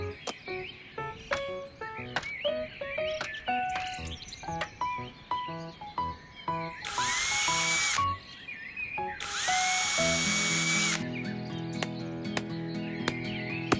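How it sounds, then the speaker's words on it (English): A power drill bores holes into a garden wall in two sustained bursts of loud whirring, set among cartoon music notes and chirpy birdsong, with no talking. "After drilling the holes and hammering the nails, Mr. Fox hung the ivy plant all across the wall"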